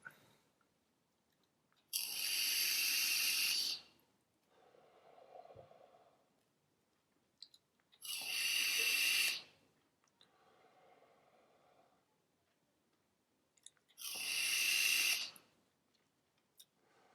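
A Vapefly Kriemhild 2 e-cigarette set to 50 watts, three long hissing draws of about two seconds each at a steady rhythm, close up, with soft exhales in between and no talking.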